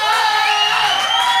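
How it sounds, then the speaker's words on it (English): A wrestling arena crowd at an MPW show roars and whoops in support of Eddie Roar, a loud, dense wall of cheering and yelling that holds steady throughout with no clear speech. "And the crowd here in full support of Eddie Roar."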